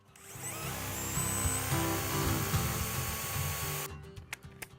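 An electric drill fitted with a screw extractor whines steadily for about four seconds as it works a deeply countersunk screw out, then stops, leaving a few sharp clicks and knocks.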